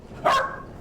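A single short, loud dog bark, close by and alone.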